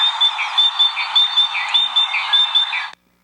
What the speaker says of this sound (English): so that's what great tits sound like